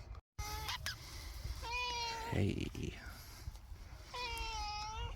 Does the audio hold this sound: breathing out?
no